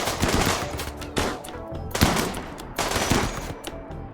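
Bursts of automatic gunfire from a RimWorld colony firefight, several rapid volleys crackling in clusters at moderate loudness, separated by brief lulls.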